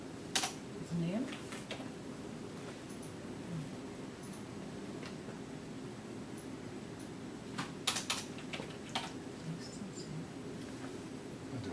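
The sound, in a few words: typing a sample name on a computer keyboard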